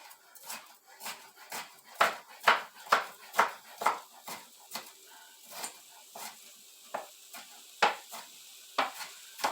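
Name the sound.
knife chopping frozen peppers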